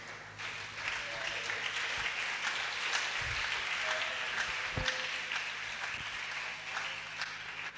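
Church congregation clapping and cheering during an evangelistic campaign service, a dense sustained wash of applause filling the whole stretch at steady volume.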